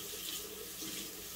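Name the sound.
rinsing a washcloth under running tap water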